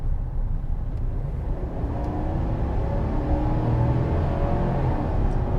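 A 2020 Chevrolet Silverado with an 8-speed automatic accelerates steadily, its engine drone rising and settling as the transmission shifts through gears, a continuous close rumble from inside the cab.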